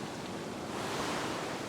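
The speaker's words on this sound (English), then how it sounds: "Wait for the next wave." An ocean wave breaking on a beach during shore fishing, a loud, steady, close wash of surf and rushing water with no voices.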